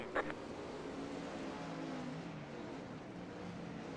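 Race cars in a 410 Outlaw Pro Series sprint car event roar steadily at a distance as the field restarts under green, a continuous engine drone with no talk over it.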